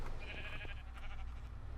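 A Minecraft sheep from the Feed the Beast game bleats with a wavering, nasal cry, repeating briefly over a steady low hum of game background sound.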